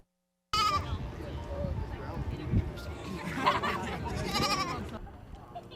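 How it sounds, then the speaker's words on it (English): Goats bleating repeatedly at goat yoga on a college campus, several close cries over a steady murmur of crowd chatter and background voices. "being around goats that are fluffy and kind during that experience"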